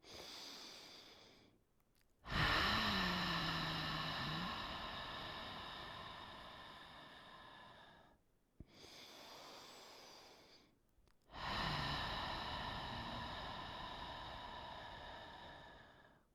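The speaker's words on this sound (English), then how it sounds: "2 rounds of breathing with the mouth open, and then we'll do 4 rounds of breathing with the mouth closed" Exaggerated pranayama breathing, first two long rounds through an open mouth, then breaths with the mouth closed through the nose; each breath is a sustained, airy rush lasting several seconds, close and clear, separated by brief silent pauses.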